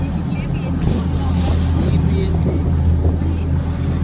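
Steady engine drone and wind rush aboard a passenger boat crossing from the Gateway to Alibaug Mandwa, with water wash running throughout the ride.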